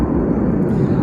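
A jet aircraft passing overhead, a steady, loud broadband engine roar filling the whole second without a break.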